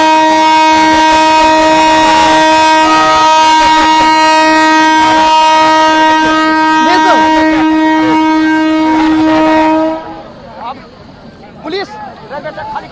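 A train sounds a long, loud, steady horn while moving at a small halt station, with rumbling wheels and crowd noise beneath, until the horn cuts off and scattered voices and commotion continue.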